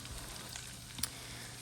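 Garlic-ginger tadka for daal sizzles in a pan over high heat as a soft, steady frying hiss, with one brief clink near the end and no speech.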